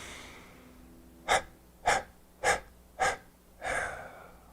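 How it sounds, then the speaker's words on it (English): Close, sharp breaths taken in a breathing exercise: four quick separate sniffs spaced about half a second apart, then one longer, fuller inhale, all fairly loud against a quiet room. "And inhale."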